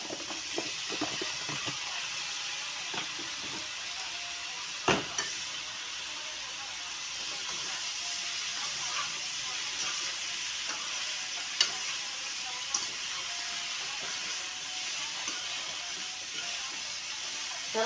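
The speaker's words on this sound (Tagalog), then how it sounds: "Yan ang aking gulay na ginisa." Sautéed vegetables sizzling steadily in a pan, a continuous bright frying hiss with scattered clicks and occasional sharper knocks of a spatula stirring, close and even in level throughout, with no talking.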